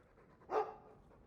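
A Mabari war dog in the video game Dragon Age 2 gives a single short, faint bark alone.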